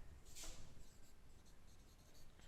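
A pen scratches out an equation on paper during a class 10 maths exercise solution: faint, continuous strokes and small scrapes, quiet and close, with no voices.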